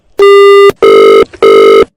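Three loud, close electronic telephone rings, evenly spaced with short gaps between bursts.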